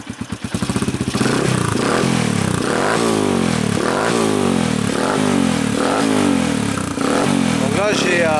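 Sherko Black Panther 2010 motorcycle fitted with an aftermarket silencer, kicked over and firing up, then settling into a loud, steady, rattly idle with repeated throttle blips, close by.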